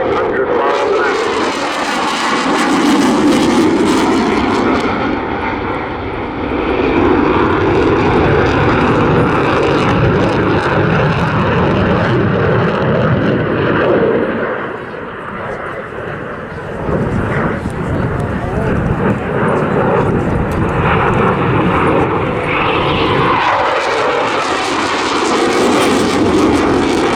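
A Eurofighter Typhoon FGR4 jet roars continuously overhead at an airshow, loud and sustained with swelling and fading engine noise as it manoeuvres, while a commentator talks over it.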